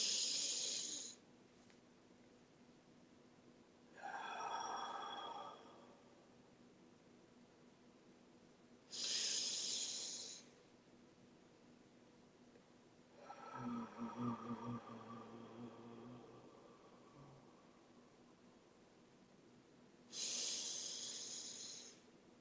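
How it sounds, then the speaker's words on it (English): Several slow, deep meditative breaths taken as if in cold mountain air, each long inhale and exhale standing alone in a quiet room, spaced a few seconds apart with soft airy texture and one rougher, throatier breath midway. "Let's take 3 deep breaths as if we're on top of a cold mountain, breathing in cold mountain air."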